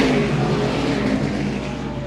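Stock race cars at the 2022 Carteret Clash roar back to speed on a restart, a dense, loud, continuous engine drone with steady revving and no talk.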